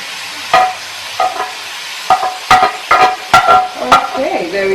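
Chopped garlic sizzling in a frying pan with pork, stirred with a utensil that knocks against the pan in sharp, uneven strikes over a steady sizzle; a voice speaks faintly near the end.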